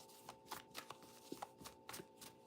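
Quick riffle-shuffling of tarot cards, close and soft, a rapid run of papery flutters and taps with no talking.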